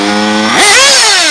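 A nitro Mugen MBX5 RC buggy with a modded Reds R5R/Triton 2148 engine idles with a buzzing drone, then revs sharply into a loud, high-pitched scream that holds strong, close to the listener.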